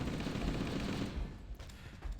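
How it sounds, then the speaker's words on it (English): Heavy rocket-launcher fire and explosive blasts in Halo co-op play, a dense rumbling roar that fades toward the end. "that's a rocket launcher one"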